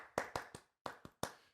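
Hands clap out a Brazilian rhythm, with six crisp, close claps in two groups of three separated by a short pause, and no other sound.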